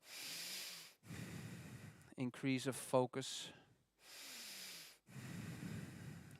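Slow, deliberate breaths in a relaxation breathing exercise: four long, steady inhales and exhales, close and fairly loud, with a brief spoken phrase in the middle.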